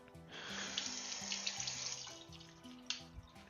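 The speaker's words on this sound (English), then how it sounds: "Wash our hands off a little bit." Tap water runs steadily into a sink while hands are rinsed off, a continuous close splashing that lasts the whole stretch with a few louder splats near the end as the flow is disturbed.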